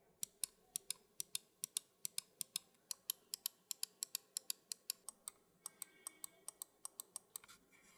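Razer Viper 8K gaming mouse buttons clicked in a test, a steady run of about thirty crisp, close clicks at a brisk, slightly uneven rhythm with no talking.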